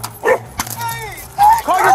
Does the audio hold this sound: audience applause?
no